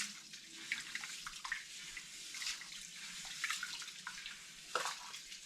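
Rice rinsed by hand in water, with soft splashing, trickling and sloshing that comes in repeated swirls, close and moderately quiet, no voices.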